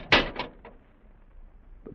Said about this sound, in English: The doors, Dudley, they're closed.